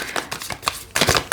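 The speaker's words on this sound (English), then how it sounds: "interesting cards popping out as I shuffle" Cute Ghost Tarot cards shuffle close by in quick riffling bursts, growing louder and denser toward the end, with no talking.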